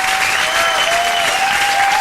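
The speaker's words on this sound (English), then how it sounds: "And the crowd goes crazy" A live podcast audience applauds loudly, dense, sustained clapping that fills the whole stretch, with a faint steady tone running underneath and no talk.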